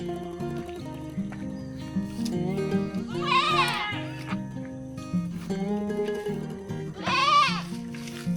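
Sheep bleating on a Philippine farm during house-plot work, with a couple of wavering bleats standing out over a busy mix of other livestock calls and background sound.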